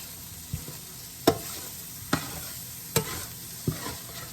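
Vegan taco meat frying in extra oil in a pan, a steady low sizzle broken by five sharp scrapes or taps spaced roughly a second apart, close by with no voices.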